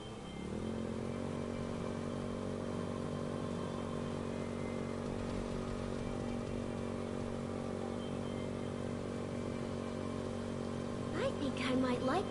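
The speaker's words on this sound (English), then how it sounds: "I think I might like this motorcycle." A motorcycle in the video game Code Vein 2 holds a steady engine drone at a constant pace, then rises briefly into a rev near the end, loud and continuous.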